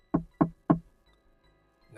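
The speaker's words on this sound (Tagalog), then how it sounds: "tumunog ang pintuan." Three sharp knocks on a wooden door at a boarding house at night, evenly spaced and close, followed by near silence.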